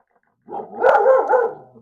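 Maisie, a pet dog, gives a short burst of close, excited barking and yelping lasting about a second in an otherwise quiet indoor room.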